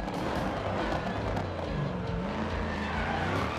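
A rear-wheel drive Camaro slides sideways on a rally stage in Dirt Rally 2, with a loud engine roar and continuous tyre skid and gravel scrabble that stay strong throughout.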